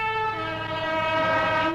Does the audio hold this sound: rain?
no